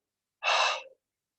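A single big exhale during a vinyasa yoga practice, a breathy rush of air lasting about half a second, close and fairly soft, with nothing else heard.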